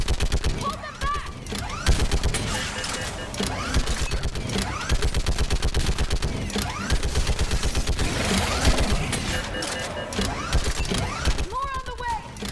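A mounted gun firing in Mass Effect 3, a long run of rapid, evenly spaced heavy shots that keeps going throughout, with voices calling out over it now and then.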